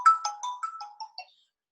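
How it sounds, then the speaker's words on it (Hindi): A phone ringtone plays as a short, clean run of bright descending chime notes, moderately loud and alone, that fades after about a second. "किसका कॉल आ रहा है"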